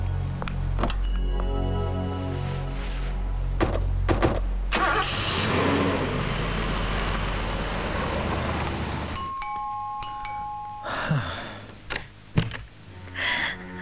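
A car engine starts and runs near the seashore at night, rumbling steadily for several seconds before settling into a softer idle, with a few sharp clicks and thumps of doors or handling toward the end.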